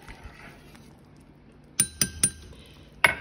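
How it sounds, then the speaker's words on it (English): A lid is set back on a stovetop pot of simmering soup beans, clinking with three quick metallic taps and then one louder clank, close by in a quiet kitchen. "put the lid back on"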